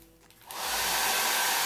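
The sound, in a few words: hair dryer drying paint on MDF penguin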